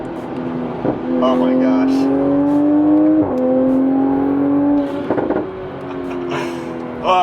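A loud Toyota Supra's engine drones and revs up close, its steady pitch climbing and dipping over several seconds, while a person exclaims over it.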